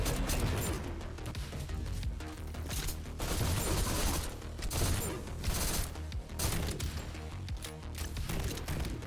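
Sustained full-auto gunfire from a weapon in the shooter game GTTOD, loud and dense, with rapid bursts rolling continuously over about nine seconds amid clanking impacts and crashes.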